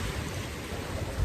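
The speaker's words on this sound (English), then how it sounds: "the waves are beautiful" Ocean waves washing ashore at night, a steady broadband wash with a low rumbling swell that rises slightly near the end, heard alone at moderate distance.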